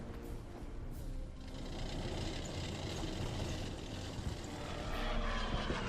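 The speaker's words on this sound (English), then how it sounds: "And there's the bomber." Wartime bomber aircraft engines in the World War II strategy game Order of Battle, set in the Battle for Moscow: a steady, loud propeller drone that holds throughout and swells slightly near the end, with no talk.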